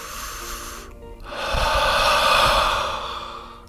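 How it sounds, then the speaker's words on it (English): A forceful exhale followed by a long rushing in-breath during a breathing exercise, close and breathy, with a brief pause between the push and the steady inrush of air. "Push the air out again and let it rush back in"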